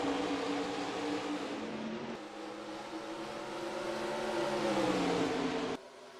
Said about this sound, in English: We are back racing here at Daytona.